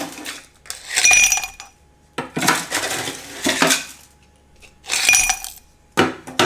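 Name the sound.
ice cubes clinking into a glass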